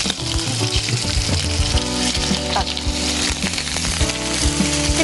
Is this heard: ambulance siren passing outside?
no